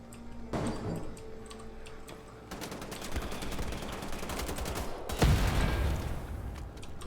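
Enemy gunfire in Wolfenstein: The Old Blood, rapid machine-gun-like bursts and ticking shots that intensify midway, with a heavy loud burst just past the five-second mark, mixed with game effects.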